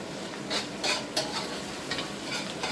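Ingredients for Peruvian lomo saltado fry in oil in a crowded pan, giving a continuous sizzling hiss with intermittent louder bursts as they are stirred and tossed.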